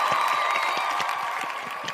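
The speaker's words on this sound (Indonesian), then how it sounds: "Beri tepuk tangan yang gembira." Audience applause at a press conference for an international sports event draw, a steady patter of many clapping hands that holds at a fairly even level for the whole moment, with faint crowd murmur and a tonal hum underneath.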